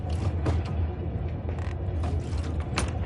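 A heavy door creaks and grinds shut in the horror video game Amnesia: A Machine for Pigs, a sustained mechanical creaking with rumbling undertones that fills the whole stretch without pause.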